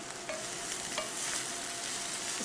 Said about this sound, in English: let's move over to the cabbage, where, I don't know if you can hear it, but it's definitely getting nice and hot.